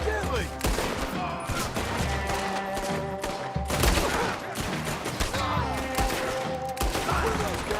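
Dense, continuous gunfire from Red Dead Redemption 2: rapid overlapping shots and bursts ring out without pause, loud and close, with game voices mixed in beneath the barrage.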